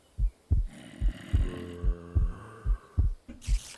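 A steady Minecraft heartbeat thumps in low double beats about every half second, with a soft hum running underneath and a brief brighter noise near the end.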